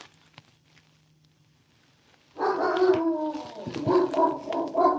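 A dog breaks a near-silent stretch with a burst of loud, close yips and whimpering barks that continue unevenly to the end, with no one talking.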